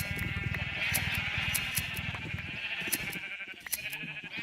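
Sheep in Minecraft, modded with Galacticraft, bleat repeatedly in short wavering cries, several overlapping at close range over a faint steady background.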